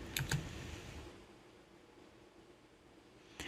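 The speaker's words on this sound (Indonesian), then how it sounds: "kita tekan enter" Two quick, sharp key clicks at the start, then a near-silent pause before one more click at the end, as the Enter key is pressed on a computer keyboard while a command is entered in a Linux Mint terminal.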